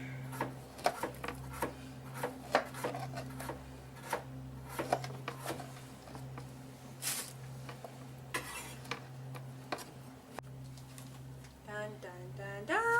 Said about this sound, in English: I'm going to continue chopping the pears